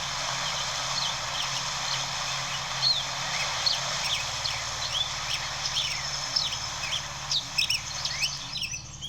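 Several birds chirp and tweet in short bright calls over a steady low background hum, the calls growing busier toward the end.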